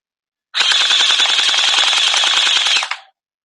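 An MP7 gel ball blaster with a drum magazine fires one steady, loud full-auto burst of about two and a half seconds, a rapid buzzing rattle standing alone against silence.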